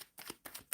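Soft riffling of tarot cards being shuffled, three quiet bursts of papery flutter in quick succession, faint and close.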